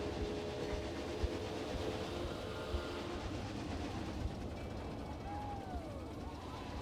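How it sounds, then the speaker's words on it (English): A train runs continuously along a theme park ride in Planet Coaster 2, a steady rumbling roll with a light clatter that fills the whole stretch without pausing. "I'm guessing we're waiting for another train to go through"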